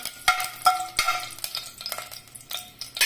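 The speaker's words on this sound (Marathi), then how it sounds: "तेल गरम झालं की आपण त्याच्यात मेथी घालून घेऊया, ती परतून घ्यायची" Fenugreek seeds and a chili frying in hot oil while being stirred: a steady soft sizzle broken by repeated scraping and clattering strokes of a spoon in the pan, close and moderately quiet, with no talking.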